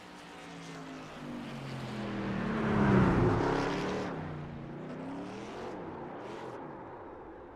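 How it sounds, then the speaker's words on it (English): Race truck doing a wall burnout at Kentucky Speedway in iRacing, a droning engine roar with tire noise that swells to a loud peak midway then eases off, running steadily throughout. "We're going to watch the burnout"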